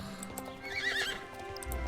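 Horses neigh in the horse-riding game SSO: a clear, close whinny rises in the middle of the clip, with light hoof clip-clop and a soft game background around it.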